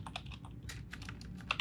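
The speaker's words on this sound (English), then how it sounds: "I can't type and speak anymore" Close, brisk typing on a computer keyboard, with a fast, irregular run of clicky keystrokes and a couple of sharper taps near the end, and no voice over it.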